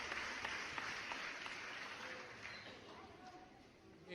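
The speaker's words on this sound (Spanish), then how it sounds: "Lo recibimos con un fuerte aplauso." Faint audience applause greets a speaker at a lecture, a soft continuous patter of many hands clapping that slowly tapers off.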